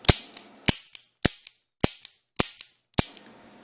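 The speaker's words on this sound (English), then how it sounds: "here's the action of the double action" Six sharp metallic snaps come at a steady, roughly half-second rhythm as a Rossi .357 Magnum 4-inch revolver is dry-fired double action, each crisp hammer fall loud and close with silence between.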